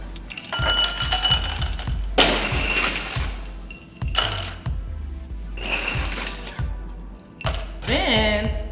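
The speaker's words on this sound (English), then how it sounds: "we're gonna go ahead and add our ice" Ice cubes tumble into a glass over muddled blackberries for a mojito, with several loud clinking, rattling bursts spread across the span and brief pauses between pours.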